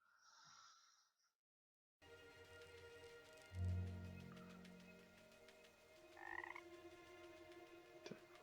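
A frog in the video game Everything gives low croaks, a loud close croak then quieter calls amid soft ambient game sound, with no talk.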